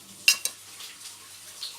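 Spices including cinnamon and turmeric are stirred together in a pot, giving two sharp utensil clinks against the pot followed by softer scraping.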